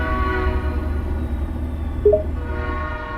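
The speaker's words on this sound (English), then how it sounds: "Oh, that's a train." A train rumbles steadily nearby with a sustained low tonal horn, and a brief higher hoot rises near the end; no talk.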